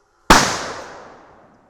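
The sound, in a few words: SKS rifle fired remotely by pulling a string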